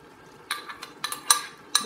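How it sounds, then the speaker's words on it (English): A spoon clinks and scrapes against a pot of cooking beans as ground tomato, pepper and onion go in: a few sharp, separate metallic taps, close and moderately loud, over a quiet background. "So this is the time I put my grinded ingredients, the tomato, the pepper,"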